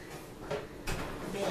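A back door in a home craft room opens as someone walks in, giving a couple of close sliding and thudding knocks over a busy, muffled room background with voices.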